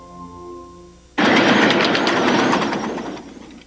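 A decorated model steam train of the Los Angeles Live Steamers at Griffith Park in Los Angeles rolls by close and loud, starting abruptly with steady clattering wheels on the track that ease off slightly toward the end.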